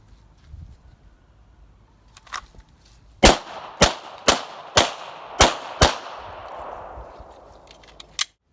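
Six evenly spaced handgun shots fired at a target outdoors, sharp and loud with ringing echo tails after each, followed by one more shot near the end.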